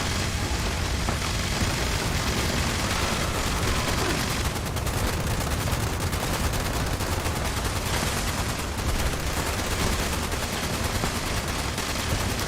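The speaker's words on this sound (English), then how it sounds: "Watch how fast I go through 75 bullets in this thing." A gun in the Fallout 76 video game fires a long, loud, unbroken stream of rapid shots, dense and constant throughout.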